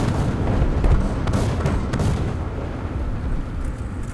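Artillery strike explosions in the War Thunder video game, a burst of heavy, rumbling booms close together in the first two seconds that fade into a lingering low roar.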